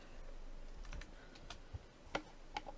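Keys on a computer keyboard clack in a short, uneven run of taps, a handful of distinct clicks spaced apart and fairly close, over a quiet room hum.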